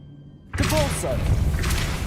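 A spell burst from the Hogwarts Legacy video game lands with a sudden thudding boom and a short, bright magical shimmer, followed by a sustained rumbling tail, under steady game background.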